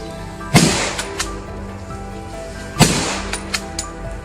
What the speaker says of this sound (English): From the perfect ambush spots, we unloaded a volley of shots.